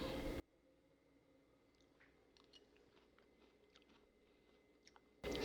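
Close-up chewing while tasting salmon tartare: soft, irregular wet mouth clicks and squishes over low room hum, framed by louder sound at both ends.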